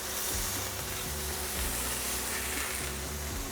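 A seasoned burger patty for a Jack Daniel's-style burger sizzles steadily on a hot grill as it is flipped, giving a continuous close-up crackling hiss with no talking.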